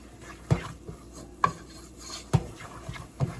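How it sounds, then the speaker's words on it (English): A utensil working flour in a pan on the stove for a mac and cheese sauce, four distinct scraping clacks against the metal at a slow, uneven pace over a faint background hiss. "Browning it, we just want to get that flour taste out"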